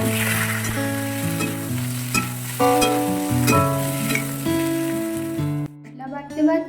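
Eggplant frying in oil in a wok, a steady sizzle running beneath prominent background music throughout.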